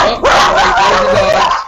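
A dog yaps and barks in a quick, high-pitched run, loud and close, over steady background noise in a radio studio.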